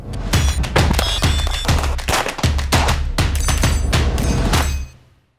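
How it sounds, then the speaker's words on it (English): Handgun shots fired one-handed at an outdoor shooting range, a rapid string of loud, sharp reports in quick succession, each with a punchy low thump, ending abruptly. "spending time on the range shooting with one hand"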